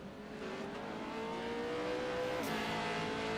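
An iRacing dirt oval race car at Lernerville pulling out in a video game, a steady mid-level engine drone whose pitch climbs gradually, with a brief tire squeal or bump near the end and no talking.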